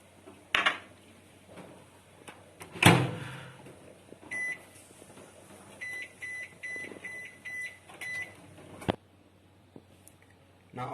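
A microwave-style oven hums faintly while tandoori chicken bakes at 180 degrees, with a door clunk, a sharp thud and a series of electronic beeps around it, heard close in a home kitchen.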